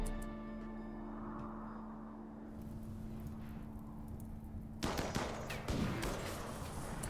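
Gunfire in the colony game RimWorld crackles in a burst of quick sharp shots partway through, over a low steady hum, fairly faint and distant.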